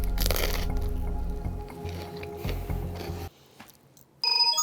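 Loud, close crunching bites of crispy pizza toast, sharp crackly bursts in the first seconds and then steady chewing, followed by a short quiet pause and a brief final clatter.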